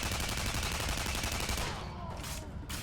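Rapid gunfire in the video game Tribes: Ascend, a steady, loud stream of shots with a fast pulsing rhythm that thins out toward the end.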